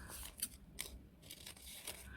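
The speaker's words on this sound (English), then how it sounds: "These scissors aren't meant to cut thick paper" Scissors cutting through thick paper, a series of crisp close snips and crunches at an uneven pace, fairly quiet and with no talking.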